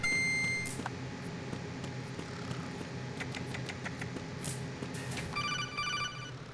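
A telephone rings in a video game, with electronic beeping tones and trilling ring bursts at the start and end over a busy layer of game noise, fairly quiet and with no voices.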